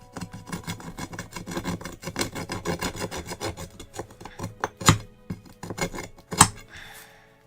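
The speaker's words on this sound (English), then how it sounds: "The scoring from the file should help." A metal file rasping across a rock to score it, a fast rhythmic run of gritty scraping strokes, close and fairly loud, with a few sharper harder strokes near the end and no talk.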